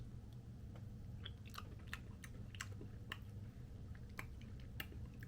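Soft, close chewing and small crunchy bites into a Crumbl cookie topped with soft lemon icing and sprinkles, a steady mouth-noise texture with scattered crisp clicks and no talking.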